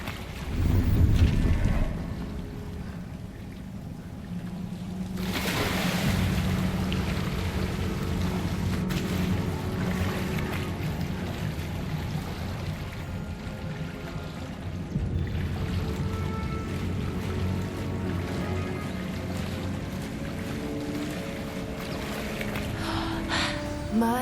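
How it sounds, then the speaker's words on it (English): Bubbling water in the Hogwarts Legacy video game world, a steady low watery churn with rushing wind-like texture, fairly loud and continuous with no talk. "Look, where the water's bubbling."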